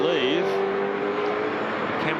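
Holden touring race car engine howls along the track at high revs, pitch rising and then holding steady before dropping near the end, heard alongside commentary.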